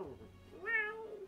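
A human voice imitates a cat's meow in one drawn-out, rising-then-falling call, close and fairly quiet, following a brief stretch of murmured sound.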